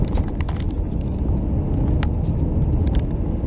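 A car travelling along an open road, heard as a steady, dense low rumble of engine and tyre noise with faint scattered ticks above, constant and close throughout with no talk.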